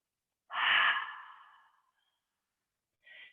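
A single long, breathy exhale during a gentle morning yoga flow, loud and close, fading out over about a second, followed after a pause by a brief faint breath. No one speaks.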